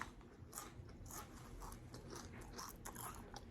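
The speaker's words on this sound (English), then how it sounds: "I'm going to be chewing chips on the side" Chips being chewed close to the mic, a run of soft irregular crunches over a low steady background hum, no talking.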